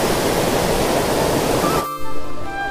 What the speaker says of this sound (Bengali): আর এই জলের আওয়াজ দেখো।